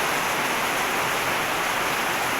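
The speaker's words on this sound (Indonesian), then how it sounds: "Hujan lebat menjadi saksi" Heavy rain falls in a steady, dense wash of hiss, continuous and fairly even throughout, with no voices over it.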